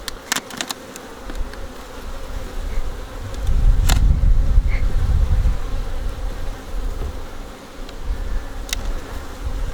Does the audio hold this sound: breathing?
no